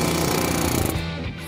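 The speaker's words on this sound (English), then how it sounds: "This old coating has to be removed to get to the metal, and the air hammer will help get that done" An air hammer strips old coating from the quarter panel of a classic 1969 Dodge Charger, making a loud, continuous rapid hammering close by that eases off near the end.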